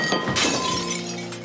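A glass ice cream bowl smashes into shards, with a bright sudden crash followed by a short tinkling scatter of pieces, close and loud, with no speech.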